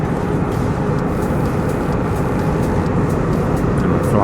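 A steady, loud broadband roar of an airliner on approach to London Gatwick over the Channel, heard continuously from inside the cabin with no talking.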